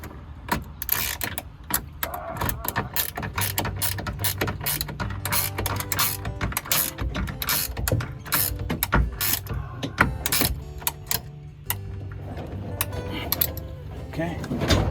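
A ratchet tightens a Retrax tonneau cover on a 2021 Ford F350, giving rapid, uneven metallic clicks and clatters in bursts over several seconds, close by, with occasional voices.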